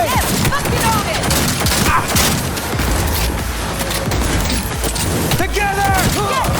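Rapid automatic gunfire crackles through a Cyberpunk 2077 firefight, dense loud bursts with impacts and a few shouted voices mixed over the shooting.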